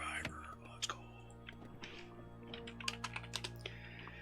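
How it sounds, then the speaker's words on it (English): Clickety-clack of a computer keyboard resting on a lap, a quick run of light irregular keystrokes under a soft steady hum with a faint whispered voice. "Also trying to reduce the clickety-clack of the keyboard."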